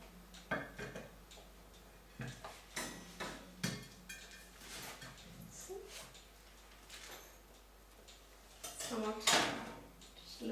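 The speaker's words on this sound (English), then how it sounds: "I'm just running the knife around the dish, and we will be tilting it onto our vessel" A knife scrapes around the edge of an eggless Christmas fruit cake in its dish, then the cake is tipped onto a serving vessel. Short clacks and knocks of metal against the dish come in bursts, with quieter handling between them.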